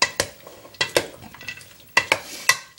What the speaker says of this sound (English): I basically just coat it with the honey mustard dressing, and then get a spoon.